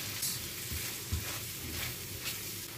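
Shrimp frying in a pan with mushroom dark soy sauce and light soy sauce, giving a steady close sizzle with faint stirring scrapes and no voices.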